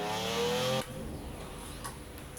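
Aston Vanquish Zagato engine in Forza Horizon 4, driven with an 8-speed gearbox: a loud revving tone that cuts off abruptly after a moment, leaving a quieter hum with faint tire noise.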